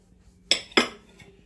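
A knife cuts through a loaf of keto bread, giving two sharp, close scraping strokes about a quarter second apart, followed by a faint tap; no one speaks.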